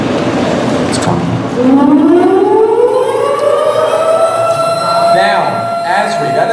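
A wailing ambulance-style siren effect rises and falls in long sweeping tones, loud and steady throughout, played as a sound effect during a game show.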